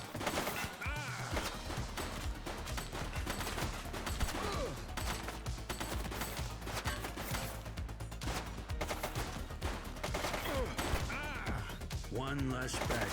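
Gunfire in The Precinct police game: dense, continuous bursts of shots and crashes under background music, with occasional voices breaking through.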